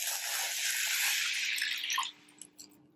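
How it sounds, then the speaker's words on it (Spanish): Water pours steadily from a tap over half a cup of raw lentils in a bowl for about two seconds, then stops, leaving a few soft drips. "simplemente les voy a poner el agua para dejarlas en remojo"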